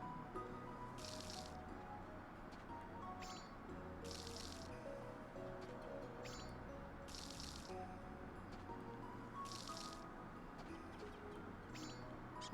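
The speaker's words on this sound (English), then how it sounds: "I just need to water stuff" Water sprinkling over crops in a farming video game, heard as four or five short, hissing splash bursts at a steady pace over a constant bed of background game music.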